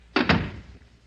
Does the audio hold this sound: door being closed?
yes